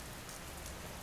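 Steady rain falls at night in a dense, unbroken hiss that fills the whole second, with no voices over it.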